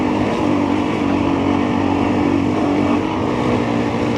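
Engines of a CFMOTO 450MT, Honda CRF300L or KTM 690R/500 EXC-F adventure motorcycle droning steadily at low speed on a slippery off-road track in Bosnia, with heavy wind rush over the microphone and no pauses.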